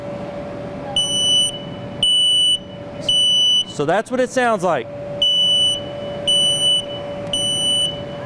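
A smoke alarm at a fire safety day shrills indoors in loud, repeated piercing beeps, about one per second, pausing once while a person speaks briefly, then resuming at full volume.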